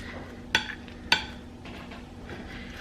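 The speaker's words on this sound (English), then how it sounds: "I'm just gonna take a spoon and I'm gonna push everything down" A spoon pushes down and stirs food in liquid in a pot, with two sharp metallic clinks against the pan followed by soft, wet stirring close by.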